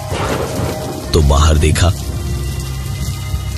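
Steady rain falling in a drama scene as a man walks home soaked through, a dense wash of rain with thunder tones underneath and a voice speaking briefly over it midway.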